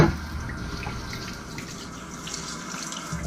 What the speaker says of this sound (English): Make sure we rinse this off because there's some dirty water there.